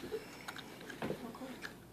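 Quiet chewing, soft wet bites and mouth sounds in a couple of short bursts, close and faint.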